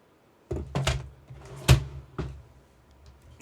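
A household drawer is pulled open, giving a short run of close wooden thunks and knocks with a sharper bump in the middle, no talking over it.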